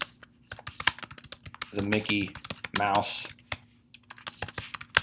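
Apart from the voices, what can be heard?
typing on a computer keyboard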